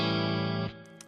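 Fender Stratocaster electric guitar through a 1950s Fender Tweed Deluxe amp with spring reverb, one sustained chord ringing loud and close before being cut off, leaving a brief reverb tail and faint fret noise.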